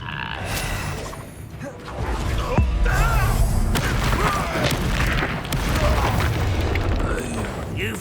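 Booming spell blasts in the Hogwarts Legacy video game land repeatedly amid a busy duel soundscape of crackles and impacts, with game voices shouting throughout.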